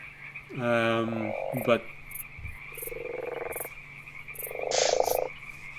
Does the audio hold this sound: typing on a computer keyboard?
no